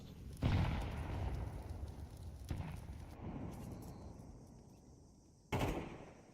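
Gunshots in a Counter-Strike 2 esports match, a few heavy booming shots spaced seconds apart, loud with echoing tails, alone without talk.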